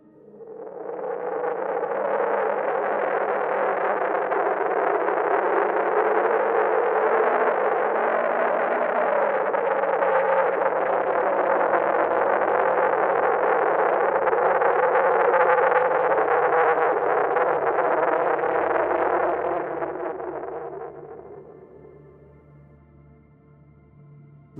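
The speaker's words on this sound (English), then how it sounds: "Recorded audio of RPC-942 in its inactive state, dubbed the idle state" Fictional RPC-942 fog entity in its idle state, a loud, sustained distorted drone with an echoing, warbling texture that holds steady for about twenty seconds, then fades into a faint lingering hum.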